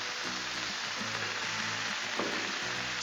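Burger patties sizzling on a Blackstone flat-top griddle, a steady dense crackle and hiss close up with faint scraping, continuous throughout with no voices.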